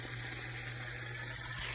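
Green-tinted water pours steadily out of a koi pond filter, a continuous close splashing rush with a low hum beneath it, no voices.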